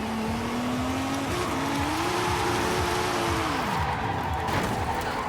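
A NASCAR road-build car drifting in Forza Horizon 5, a steady loud engine drone with a wavering high tire squeal sliding up and down over several seconds, no talk.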